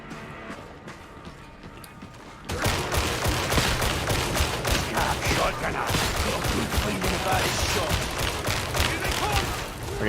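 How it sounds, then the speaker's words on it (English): Dense, sustained gunfire from Warhammer 40,000: Darktide erupts after a quieter opening and rolls on loudly as rapid overlapping shots, with game noise and voices beneath. "this gun is inaccurate as shit, but it's fun to shoot"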